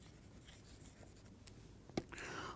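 A lecturer chalks on a board during a mathematics lecture on sl2 representations, quiet scratchy strokes with a sharper tap near the end, faint room noise in the background.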